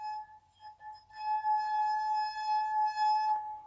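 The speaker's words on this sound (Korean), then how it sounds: "와인잔에 물이 없을 때 훨씬 더 높은 음의 소리가 발생한다는 걸 아실 수가 있을" An empty wine glass sings as its rim is rubbed, a sustained, pure high ringing tone that swells and holds steadily for several seconds, alone without speech.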